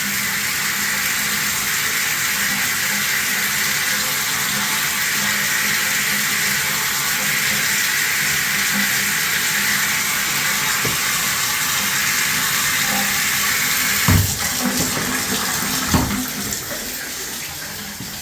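Water running from a tap into a bathtub, a loud, steady hissing splash that continues throughout, with a couple of brief knocks and clunks near the end, no talk.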